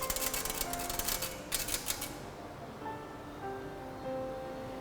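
Keys being struck on an old typesetting machine keyboard, a rapid clattering run of taps for about two seconds, then a faint steady mechanical hum.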